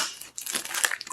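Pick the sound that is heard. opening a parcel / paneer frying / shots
opening a parcel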